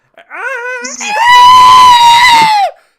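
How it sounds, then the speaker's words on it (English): A woman screams as lightning striking a Christmas tree electrocutes her, opening with short rising cries, then breaking into one long, loud, sustained shriek at a steady pitch that holds for over a second before cutting off. "Mathilda screams getting electrocuted for a long time"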